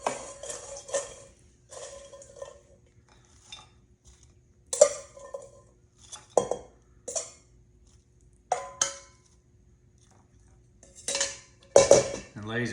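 Homemade French fries tossed with salt and pepper in a bowl, giving several bursts of clattering, clinking rattles against the bowl with short pauses between them, fairly close, with no talking.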